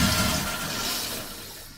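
A Waterdrop Flash countertop water filter flushing: a steady rush of running water that slowly fades toward the end, close and alone.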